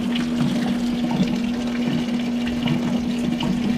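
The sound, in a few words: coolant draining from disconnected lower radiator hose, Dodge Neon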